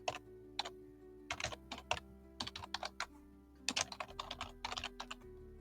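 A name is typed into a form on a computer keyboard, coming through as close, crisp key clicks in quick bursts with short pauses between them, alone over a faint low hum.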